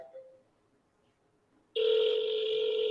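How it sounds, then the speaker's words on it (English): A cell phone call goes out: a brief dialing tone fades, a quiet gap follows, then a loud, steady ringback tone starts abruptly and holds to the end. "I'm literally calling on my cell phone."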